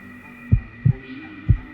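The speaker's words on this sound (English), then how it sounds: "Let me check your heartbeat with my snazzy trunk" Cartoon heartbeat sound effect for a pretend doctor's exam: three deep, soft low thumps, a quick double beat followed by a single, over a faint steady hum.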